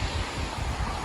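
Surf and wind on a beach at low tide on a bright day, a dense, steady roar with gusty rumble, close to the microphone and loud, no voices.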